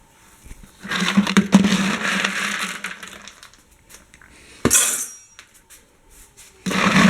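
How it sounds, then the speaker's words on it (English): Dry pet food poured into feeding bowls: a long rattling cascade of pellets, then a sharp clank of a bowl, and a fresh rush of pouring at the end, close and loud, with no voices. "I go fill their bowls with food"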